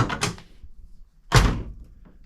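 An Oldsmobile Cutlass driver's door, newly hung and adjusted, swings open with a short rattle, then after a pause shuts with a single solid thunk, close by with no talk.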